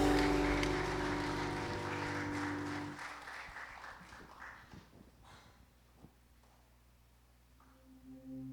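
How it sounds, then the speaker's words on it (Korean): A church congregation claps during a Sunday worship service, a dense crowd applause that is loud at first and thins out after a few seconds into scattered claps, following music. "영광의 박수를 올려드립니다"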